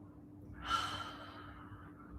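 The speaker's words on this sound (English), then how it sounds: "Just take a few more big deep breaths like this, just observing." A person breathes deeply during a Pilates breathing exercise: one slow, audible breath swells in at close range, then eases out softly over a steady low hum, with no talking.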